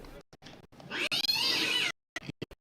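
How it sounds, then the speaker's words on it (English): A cat meows loudly and close at a small-town baseball game, one drawn-out rising cry with short clicks and knocks around it, no talk over it. "There's our kitty cat."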